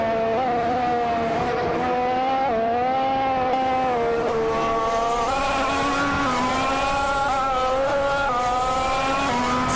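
Race car engines, including a Ferrari F14T, scream at high revs in a racing video game. The whine is loud and continuous, with pitch rising and falling through gear shifts and throttle changes, and no talking over it.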